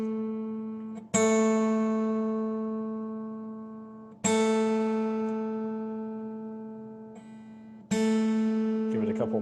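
Acoustic guitar B string retuned for an alternate tuning, plucked three times, each note ringing clearly and decaying slowly with a bright attack, close and alone.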